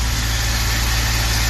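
Suzuki Super Carry mini truck engine idling warm after a start, a steady low rumble that holds even and continuous throughout, close to the mic with no voices.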